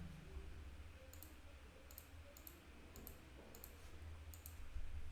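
Someone types the hatch command on a computer keyboard while drawing a building's front elevation, a handful of faint, crisp key clicks scattered unevenly over low background hum.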